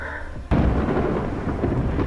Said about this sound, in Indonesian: di luar kini terjadi badai besar yang membawa banyak karbon beracun